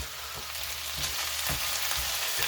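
Chicken pieces seasoned with fajita spice fry in a pan over slightly lowered heat, giving a continuous close sizzle and crackle with faint stirring scrapes.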